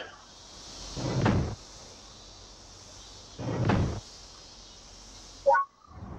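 Door sounds from the Steambot Chronicles video game: two muffled thumping openings about two and a half seconds apart, each a broadband swell, followed by a sharp brief clack near the end, all over a steady background hiss.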